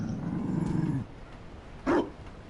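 A Mabari war dog from Dragon Age: Inquisition gives a low rumbling growl, then after a pause a single short bark, fairly close.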